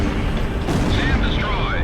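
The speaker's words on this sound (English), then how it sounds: "SAM destroyed." In the video game Ace Combat Zero, a missile destroys a SAM site: a loud, dense explosive rumble over constant jet engine roar, with a brief flare midway.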